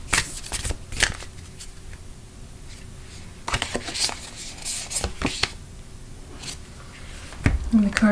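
A Mermaid Oracle card deck is shuffled by hand in quick riffling bursts and soft slaps of cards, close and crisp, with short pauses between rounds.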